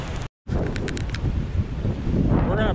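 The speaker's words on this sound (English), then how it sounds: "If you can hear what I'm saying, the wind's blowing so hard." Strong wind roars steadily across a microphone on a mountain in the Ouachita Mountains, a loud continuous buffeting rush with a brief dropout near the start and no talking.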